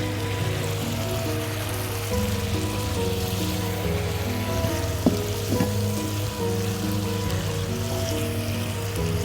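Vegetables sizzle and crackle steadily in a hot pan of oil in a home kitchen, a dense continuous frying hiss with a few brief clinks of a utensil midway and a low hum beneath.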